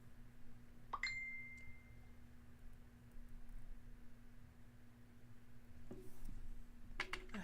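Phone notification chime rings out once, a short bright tone sustaining briefly over a steady low room hum, with a faint second ping near the end; no one speaks over it.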